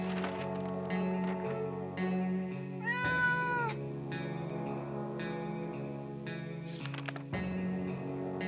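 A cat meows repeatedly inside a video game, the calls rising and falling in pitch over a sustained tonal backdrop of game music with occasional soft clicks, fairly loud and close throughout with no talking.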